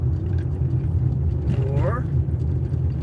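Car driving along the road, a steady low rumble and vibration from the engine and tyres filling the cabin throughout, with a faint rising whine near the middle and no talk.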